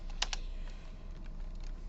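Quick keystrokes on a computer keyboard, a handful of light irregular clicks with one or two sharper taps, close and alone over a quiet room hum.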